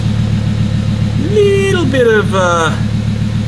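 A Volvo 850 engine idles smoothly and quietly with a steady low hum, while someone talks close by over it.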